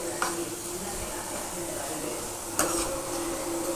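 Potato fry being stirred in a pan with chili powder and coconut powder, a steady sizzle with two sharp scrapes of a spoon against the pan standing out over the frying.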